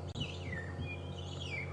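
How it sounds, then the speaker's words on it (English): A wild bird calls with bright, wavering chirps and whistles at a berry bush, heard up close over a steady low rumble of a safari vehicle's engine. "Go away, bird"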